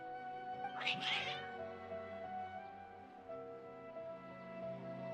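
Cats meow in the video game Genshin Impact, a couple of close, agitated yowls near the start followed by quieter mewing over steady background music.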